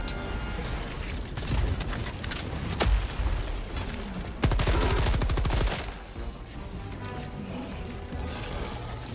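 A deployed weapon emplacement in a Space Marine tabletop-style video game fires in bursts, with rapid rattling gunfire peaking mid-clip amid clanking mechanisms, moderately loud.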